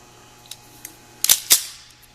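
A Gold Standard trigger, freshly adjusted, dry-fires with two sharp metallic clicks close together, preceded by a couple of faint lighter ticks, in a quiet room.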